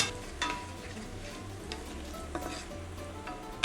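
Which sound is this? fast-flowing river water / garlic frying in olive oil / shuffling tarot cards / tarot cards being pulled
garlic frying in olive oil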